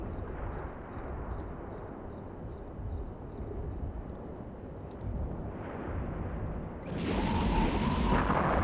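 Rocket explosions in the space game EVE Online, deep rumbling booms over a constant low roar, with a sequence of beeping tones early on and a louder blast surging near the end.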